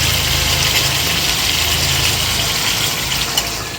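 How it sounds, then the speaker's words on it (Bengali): Hot water poured into a pan of hot oil and spices while cooking a vegetarian elephant foot yam curry: a loud, steady rushing sizzle and gush that holds for several seconds and then eases slightly, with no voices. "এবারেই জলটা দিয়ে দেবো।"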